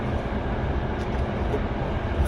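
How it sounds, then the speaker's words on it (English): Steady rumble of a passenger train in motion, a continuous low roar and rattle heard from inside the carriage, with no clear voices over it. "We're on the train right now."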